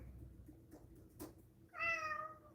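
A house cat gives a single clear meow near the end, preceded by quiet low background rumble and a soft thump, close and fairly faint.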